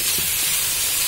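Rice cooking in a pot on a kitchen stove gives off a loud, steady steamy hiss, close and continuous, with faint bubbling underneath and no talking.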